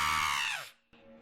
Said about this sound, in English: you hear behind you a high-pitched, blood-curdling scream